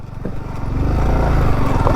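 A Yamaha R15 V4 motorcycle engine revs while riding off-road, a loud, close, buzzing drone that builds steadily in strength, with some rough mechanical rattle underneath.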